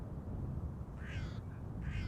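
A raven near an airport gives a few harsh, nasal calls in short bursts over a constant low outdoor roar, fairly faint and distant, with no talking.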